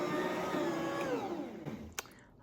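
A stand mixer runs steadily, kneading whole wheat bread dough made from freshly milled flour, a continuous motor whir with rhythmic churning that holds level and close, then eases off near the end with a brief clunk.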